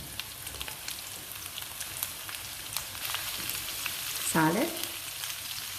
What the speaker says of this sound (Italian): La cipolla è già appassita e aggiungiamo i peperoni in padella.